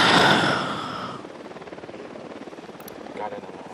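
A helicopter flies in the video game Ghost Recon Wildlands, a loud rotor roar that fades into a steady rhythmic chop, with voices talking over it.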